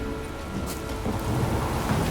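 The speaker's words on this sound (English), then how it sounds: "The storm, damn it." A thunderstorm in The Witcher 3 video game brings steady rain hissing under a low, continuous rumble of thunder, with no voices.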